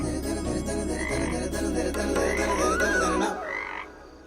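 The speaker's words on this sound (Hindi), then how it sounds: "मेंढक है, इस मौसम में निकलते हैं।" A frog croaks repeatedly at night in a rural Indian setting, the calls loud and close over a steady background hum of insects and ambience, fading out near the end.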